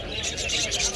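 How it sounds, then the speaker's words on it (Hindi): Caged bulbuls at a Dammam bird market in Saudi Arabia give rapid, overlapping high chirps, continuous and near, over a low hum of market chatter. "यहाँ भी बुलबुल है।"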